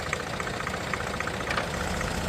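A Ford Escape engine runs steadily in drive with a worn motor mount, a constant mid-pitched idle hum with a faint rhythmic ticking, close and loud with no talking.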